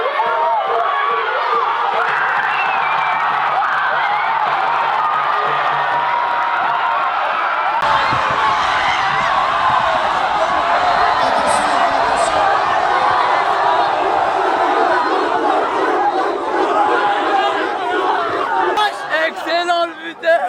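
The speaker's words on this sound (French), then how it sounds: "là je vois les Algériens ils sont en train de crier sur les côtés" Algerian football fans shouting and chanting from the stadium sidelines, a dense, loud, continuous crowd roar with whoops and cheers that swells and shifts midway and keeps going without letup.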